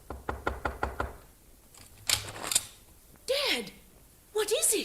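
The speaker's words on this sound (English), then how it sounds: "Then he stumbled to the door of Joy's room and knocked." Five quick knocks rap on a bedroom door in the middle of the night, close and evenly spaced, then a few thumps and a voice answering in speech.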